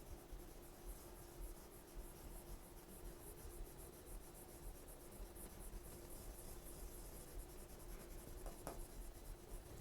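Steady scratching of chalk or marker writing on a classroom board, continuous and close, with a few sharper strokes near the end and no talk.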